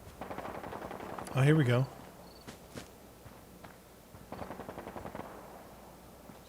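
Gunfire in the Fallout video game: a short burst of rapid shots near the start, followed by a few scattered single shots and a steady background din. A voice speaks briefly over the noise.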